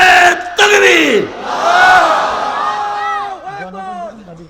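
A large crowd at a religious gathering roars takbir in unison, a loud, swelling collective shout that rises, holds and slowly fades with trailing voices.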